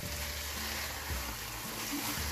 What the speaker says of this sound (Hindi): अब इसमें मुसलसल चम्मच चलाते रहना।